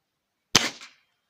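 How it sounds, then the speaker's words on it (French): A Destroyer rocket round is fired into a block of ballistic beef gel, giving one sharp, loud blast with a short rough tail that dies out within half a second, followed by silence. "Donc là, on tire de la roquette Destroyer."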